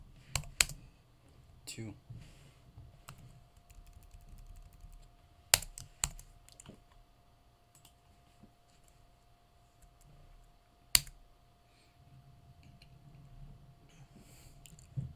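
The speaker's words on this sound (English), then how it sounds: "Let me write a little comment right here." Soft, sparse keystrokes on a computer keyboard while a code comment is typed into HTML and CSS. A few sharper clicks stand out from the quiet tapping, and a voice speaks briefly.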